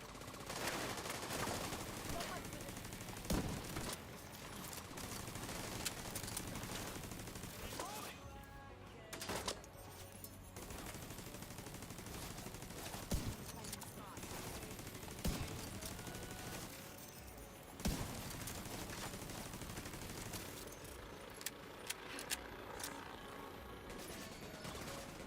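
Bursts of automatic gunfire and scattered single shots from The Division 2 continue throughout a long stretch of game combat, steady and dense with occasional sharp cracks and brief lulls.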